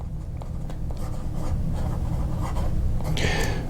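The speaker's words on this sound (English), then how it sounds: "You know you're writing on paper." A Delta Unica fountain pen nib scratching across paper, producing a steady soft rubbing texture with short stroke accents, ending in a brighter, sharper scrape.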